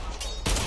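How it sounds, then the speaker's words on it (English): Gunfire in the video game Fallout 76, with an enemy shooting: a quiet stretch, then an abrupt loud burst of shots near the end of a very short moment, no voices. "There's another one shooting at us."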